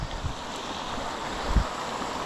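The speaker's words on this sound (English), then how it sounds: "I love to hear the sound of the water." Water flowing steadily beside the Appalachian Trail, a constant broad rushing wash with faint low wind bumps, near and moderately loud with no talk.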